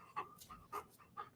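A husky pants in three short breathy bursts, close and fairly soft, with quiet pauses between them.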